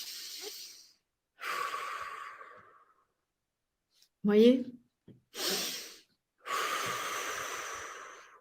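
Several slow, deep breaths drawn in and pushed out close to the mic, long broadband breath noises separated by silent pauses, with a brief spoken remark in the middle.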